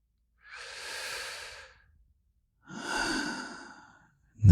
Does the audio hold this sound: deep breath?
yes